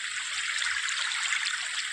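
Steady, hissing rush of the Betwa river's flowing water, a continuous close wash of splashing and trickling with no pauses.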